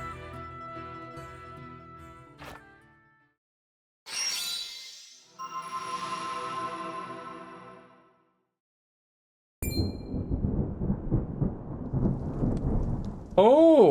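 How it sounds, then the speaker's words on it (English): Rain hisses steadily with deep thunder rumbles in a Triangle Strategy battle scene, set among other game sound effects, tones and pauses of silence. "Rain! Honest to goodness, rain!"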